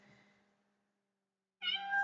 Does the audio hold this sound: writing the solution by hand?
no